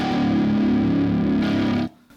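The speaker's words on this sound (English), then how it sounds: "I'm here today with the Ibanez RG9 string. It's like an 8 string, except we have an extra low string which is tuned to C sharp" A distorted Ibanez RG9 nine-string electric guitar chugs on its extra-low C sharp string, a thick, dense and loud sustained tone that rings steadily for almost two seconds before cutting off sharply.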